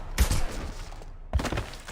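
Two short, punchy bursts of gunfire in a Mass Effect 2 shootout, separated by a brief gap, fairly close and loud.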